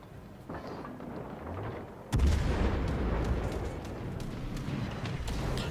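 Heavy naval gun salvos fire from a German ship, the cruiser Graf Spee, in World of Warships Legends. One loud boom lands early, followed by a sustained rumbling roar of continued battle noise.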